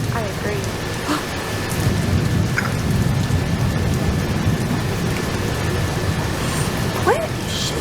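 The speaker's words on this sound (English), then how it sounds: "All that thunder and lightning makes me think something bad's gonna happen." Steady heavy rain with a broad low rumble of thunder rolling through a nighttime thunderstorm, continuous and fairly loud, with a few faint chirps scattered on top.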